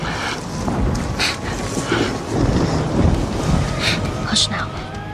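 A thunderstorm rumbles with low rolling thunder under steady rain, loud and close throughout, with brief brighter crackles and splashes breaking through.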